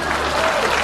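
A crowd breaks into loud, dense applause, a continuous wash of clapping that fills the short moment.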